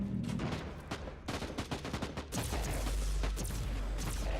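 Guns in the video game Warhammer 40,000: Inquisitor Martyr fire in rapid, clustered volleys of sharp cracks, loud and close, building into a dense burst near the end.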